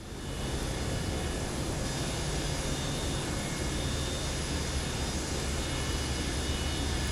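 Boeing 727 jet engines in Microsoft Flight Simulator 2024, a steady loud broadband roar with a low rumble and faint high whine, unchanging throughout.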